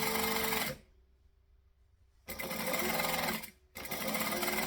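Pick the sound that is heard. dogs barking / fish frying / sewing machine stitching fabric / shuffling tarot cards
sewing machine stitching fabric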